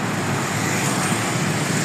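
Busy road traffic at Faizabad Interchange in Islamabad makes a continuous broadband wash of passing cars and motor vehicles, steady and fairly loud with no voices.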